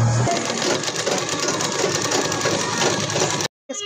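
A sewing machine stitches a shirt sleeve, its steady, loud motor hum and rapid needle chatter running continuously for several seconds, then cutting off abruptly near the end.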